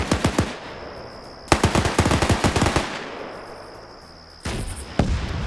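Weapon fire in a shooter video game, including an anti-tank weapon firing on a position: rapid bursts of sharp, loud reports in quick succession, then a pause and a heavy blast near the end.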